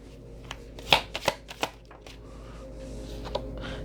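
Tarot cards being shuffled, a few quick riffling bursts and soft card taps close by, followed by a quieter stretch of handling noise.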